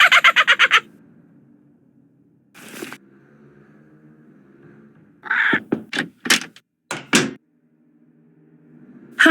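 Squawks and harsh calls from Polly the parrot in the Nancy Drew game Blackmoor Manor, several short loud bursts scattered between quiet stretches, with a door-like thud and low background hum.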